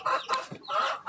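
Chickens on a home farm cluck just before feeding: a few short, close clucks in quick succession.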